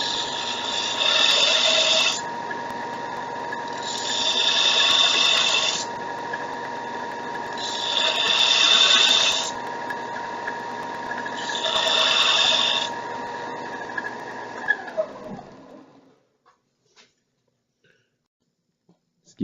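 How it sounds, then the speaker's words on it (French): A belt sander sharpens a drill bit with four grinding passes, each a loud rasping surge against the motor's steady whine, which then winds down and stops, leaving near silence with a few faint clicks. "quand on va sabler, c'est qu'on va juste baisser la queue de la mèche en tournant une petite affaire pour suivre la courbure"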